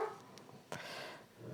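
A dog indoors lets out a single short, sharp bark, with a few faint yips and shuffles around it, fairly quiet.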